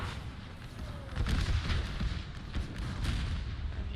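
Artillery cannons boom across a Napoleon: Total War battlefield set in the American Civil War, several muffled thuds landing in quick succession over a continuous din of combat.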